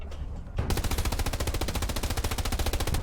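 Sustained automatic gunfire in the World War II shooter Hell Let Loose, a loud, rapid machine-gun burst that kicks in after a brief quieter lead-in and rattles on steadily to the end.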